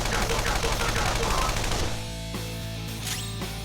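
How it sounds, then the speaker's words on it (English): Rapid gunfire from a shooting attack in the video game Persona 5 Royal, a dense burst of shots over a busy battle soundtrack with talk underneath, thinning into a few sharper cracks. "Maybe we'll just shoot you."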